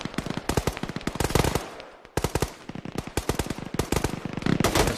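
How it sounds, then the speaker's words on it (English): Rapid bursts of gunfire crack close and loud during squad combat training outdoors. Volleys come in quick strings with a brief lull partway through and no talk over them. "Shooting on your right."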